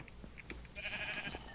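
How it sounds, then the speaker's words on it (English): A sheep bleats in Minecraft, a short pixel-game animal call of about a second, moderately loud over a faint background hum. "this sheep has not been shorn, or they've grown their wool back"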